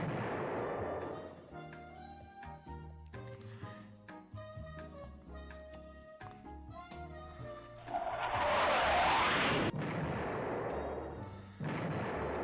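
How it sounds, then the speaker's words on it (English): Naval combat in the video game Rule the Waves III, with repeated booming missile impacts and explosions on ships over layered game music, rising to a loud sustained blast. "we're definitely landing an awful lot of missile hits this time around"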